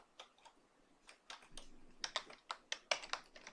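Keys clack on a computer keyboard as code is typed in a batch file, a quick irregular run of crisp taps that grows louder and denser toward the end, with no voices.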